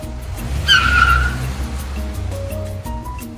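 A car pulls away with a short, sharp tire screech followed by a low engine rumble that fades out.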